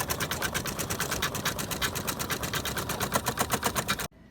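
An embroidery machine runs steadily, stitching a placement outline on a hooped piece backed with tearaway stabilizer, its fast, even needle rhythm loud and close before it stops abruptly.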